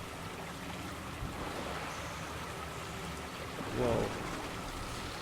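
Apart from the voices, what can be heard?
running water in BioShock 2: Minerva's Den video game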